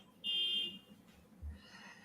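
A house alarm sounds a single short high electronic tone lasting about half a second, fairly faint at a distance, followed by a soft low thump in an otherwise quiet room.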